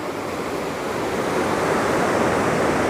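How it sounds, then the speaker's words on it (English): A river flowing past a salmon fishery makes a steady, loud rushing wash that stays even throughout, with no voices over it. "I just thought I'd come down to the river"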